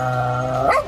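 Dogs snarling and growling as a sound effect during a Cyberpunk Red tabletop game session, one sustained close, loud growl that twists upward into a sharper snap near the end, with no talk over it.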